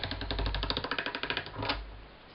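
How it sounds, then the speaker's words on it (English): A hand-cranked pasta machine rolls polymer clay flat at setting number 1, with a rapid, even series of close mechanical clicks that ends in a louder clack and then a low hum. "now it's going to go through my pasta machine at a number 1 a couple of times"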